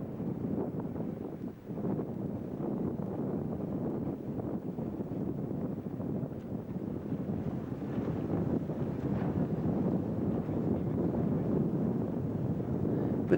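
Wind blows steadily on a breezy day while 14 dinghies sail at Itchenor, a continuous low rumbling buffet on the microphone with slight surges and no talk.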